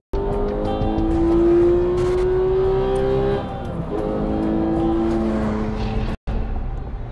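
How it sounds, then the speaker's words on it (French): Racing cars roar off at the start of the 1955 24 Hours of Le Mans, a loud, dense engine drone with rising revs that holds steady, then shifts as cars pass, cutting out briefly near the end. "D'autres voitures prennent le départ des 24 heures du Mans 1955."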